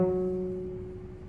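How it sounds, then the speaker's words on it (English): A single plucked F sharp on a cello's D string, stopped with the third finger, gives a warm resonant note that starts clearly and fades gently over about a second, heard alone. "So pluck your third finger on the D string and see if it sounds like this."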